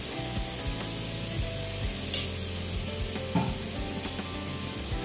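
Chicken biryani ingredients being mixed with yogurt, a soft continuous wet stirring and squishing close by, with a few brief clinks and scrapes against the vessel.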